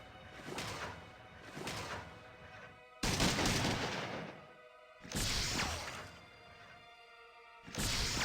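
Turrets in Fallout 2 fire in repeated loud bursts of gunfire, each lasting a second or two, separated by short quieter gaps.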